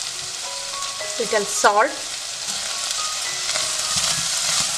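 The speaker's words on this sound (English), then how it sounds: "Roast this for few seconds so that we don't get raw smell of turmeric." Turmeric and red chili powder roasting in a hot pan for bisibelebath, a steady frying sizzle with stirring scrapes, while a voice speaks briefly over it.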